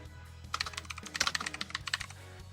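Keys clatter on a computer keyboard in a quick, uneven burst of close, crisp clicks, with a brief pause partway through and a low steady hum underneath.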